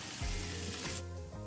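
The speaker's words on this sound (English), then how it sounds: "Oh, listen to that sizzle." Loud, close sizzling of burger patties frying in a hot pan, a dense crackling hiss that suddenly drops off near the end.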